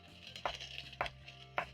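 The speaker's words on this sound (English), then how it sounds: "I'm going to chop up some tomatoes very fast" A knife chops tomatoes on a board in a home kitchen while onions cook, giving three sharp, close strikes spaced about half a second apart over a low steady background hum.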